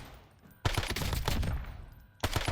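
Rapid bursts of automatic MXR rifle fire in a video game, loud and continuous, cutting off briefly before another burst starts.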